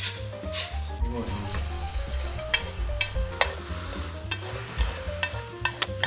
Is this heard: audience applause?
no